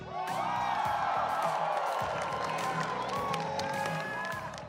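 A packed live audience at Nintendo Live 2024 in Sydney, a Splatoon 3 championship event, cheering and whooping continuously at close range, with a loud, dense roar of voices sustained throughout.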